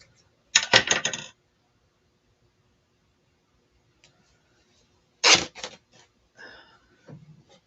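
Two short bursts of scissor-like cutting crackle, alone in an otherwise quiet room, as material is cut in half for a handmade faux pallet sign, followed by a few softer handling rustles.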